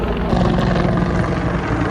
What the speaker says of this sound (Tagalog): Ang daming nag-rolling na mga helicopter.